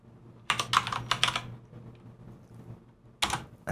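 Short bursts of typing on a computer keyboard while entering a FreeBSD config line, two quick clusters of keystrokes separated by a quiet pause, close and crisp.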